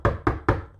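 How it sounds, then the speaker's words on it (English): Three quick, solid knocks on a wooden door, evenly spaced and close, each with a short resonant decay, heard alone in a fairytale of the wolf at Grandma's house. "knocked on the door"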